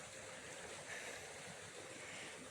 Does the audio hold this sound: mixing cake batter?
no